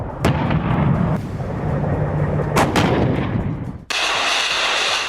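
Grad multiple rocket launchers firing their rockets at Ukrainian forces, with loud, sustained roaring blasts and several sharp launch bangs over about five seconds. The roar cuts into a harsher hiss near the end.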